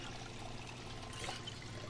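Water pours steadily into a bucket in Project Zomboid, a quiet continuous trickle and splash that swells briefly partway through, heard alone without talk.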